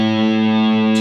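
A single distorted electric guitar note on the open A string, from the intro riff, rings out steady, loud and sustained with rich harmonics and no talk.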